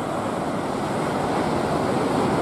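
Continuous roar of ocean surf at Scarborough beach during a surf lifesaving race, waves clashing and breaking in a dense, steady wash with some wind noise, no voices.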